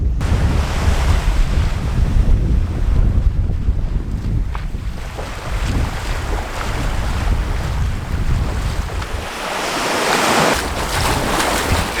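Surf washing onto a secluded white-sand beach in Australia, a steady loud roar of breaking waves with wind buffeting the microphone throughout, no voices.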